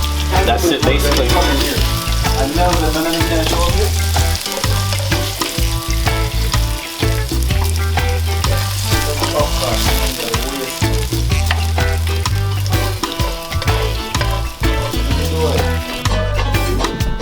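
Sautéed food added to frying fish in a Jamaican home kitchen, producing a loud, steady sizzle with stirring and clattering that runs unbroken throughout.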